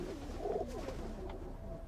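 Feral pigeons in a loft give a few soft, low coos in the background, with a steady murmur of room noise underneath.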